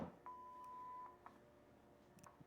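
A telephone dialing to call the time service, a short run of faint touch-tone beeps, one held tone followed by a few quick clicks, quiet and close with no voices.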